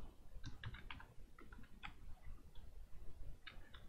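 Keys clack on a computer keyboard in short, irregular bursts of quiet, close clicks, with no one talking.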